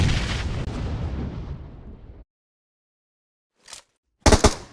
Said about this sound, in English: Throwing grenades when they're about to explode makes it more difficult for enemies to